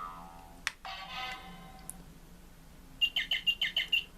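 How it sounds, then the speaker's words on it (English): An electronic bird chirp from the modern Operation board game plays as a quick run of about eight bright, evenly spaced tweets near the end, after a couple of clicks and a short buzzy tone in an otherwise quiet room. "Because obviously a bird."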